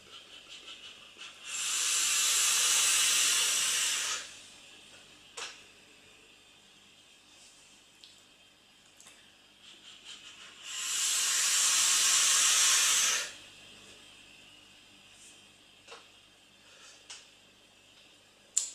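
A Velocity e-cigarette set to 40 watts at 0.30 ohms gives two long, loud bursts of vapour hissing, each lasting about two to three seconds, separated by quiet with faint clicks and small noises between.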